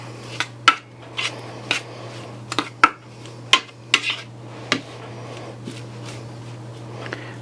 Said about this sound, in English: Mix these shrimp up a little bit.